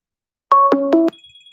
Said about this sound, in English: How is my computer ringing?